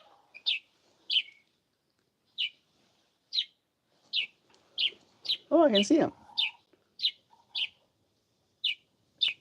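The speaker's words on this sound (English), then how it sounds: "I think that's a little finch." A little finch chirps in short, bright, evenly spaced tweets, a dozen or so calls over several seconds. A person speaks briefly in the middle of the calling.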